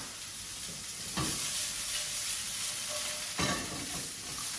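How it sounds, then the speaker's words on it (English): Broccoli sizzles steadily while grilling in olive oil in a pan, a loud continuous fry with a couple of sharper bursts as the pieces are tossed. "grill them for about a minute with the remaining olive oil that I have in the pan."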